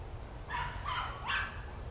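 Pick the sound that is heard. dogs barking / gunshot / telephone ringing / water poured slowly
dogs barking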